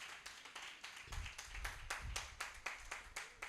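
An audience at a voice-coaching grand final and certificate ceremony claps in a steady rhythmic beat, sounding somewhat distant and fairly quiet, with no talking.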